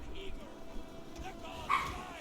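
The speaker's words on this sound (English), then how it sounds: "Sorry if you gotta hear my dog." A real household dog barks and yips faintly somewhere in the room, its short bursts sitting under voices and steady background noise.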